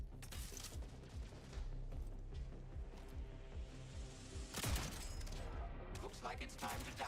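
Gunfire in the video game Jump Space: dense, continuous bursts of shots and loud impacts, with a heavy crash-like blast about two-thirds through, set against game sound and voices.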